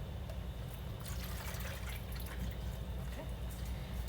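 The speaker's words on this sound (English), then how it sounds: "we're going to add 2 cups of warm, not hot water" Warm water pours steadily into a bowl for focaccia dough, making a quiet continuous trickle with no other sounds.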